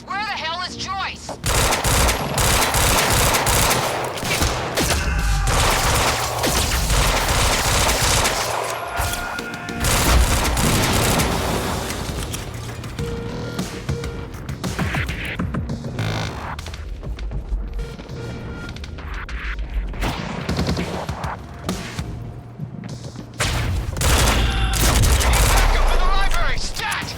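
Sustained gunfire in the video game Quantum Break, with loud bursts of automatic fire, single shots and crashes in a dense, continuous barrage, with voices shouting over it.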